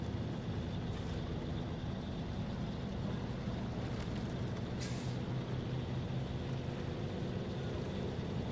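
A heavy truck hauling a loaded trailer uphill in SnowRunner, a constant loud low engine drone with steady rumble throughout, broken only by a couple of brief hissing accents.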